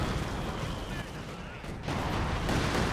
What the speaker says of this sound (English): Big barrage there from the Panzerwerfer, takes out a lot of models